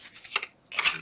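Scissors snipping away a glue mess on a paper craft project, with two quick close crisp cuts about half a second apart.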